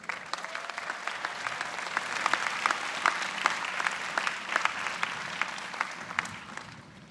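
Sustained audience applause fills a university graduate commencement hall, with dense, steady clapping from a large crowd that swells slightly and then tapers off near the end.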